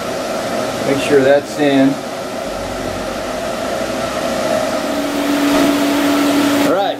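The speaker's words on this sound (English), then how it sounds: "the first thing we're going to do is we're going to tack weld this corner right here" TIG tack welding on the corner joint of a steel welding cart: a steady buzzing electrical hum with a faint tone, running continuously under brief close speech at the start.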